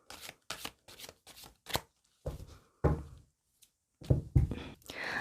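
A deck of tarot cards being shuffled by hand: a quick run of crisp riffling bursts, then a pause and a few more, close and clear with no voices.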